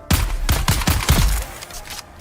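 Gunfire in the game Dune: Awakening: a rapid burst of about six loud, close shots in quick succession, each a sharp crack with a low thump, trailing off into quieter scraping at the end.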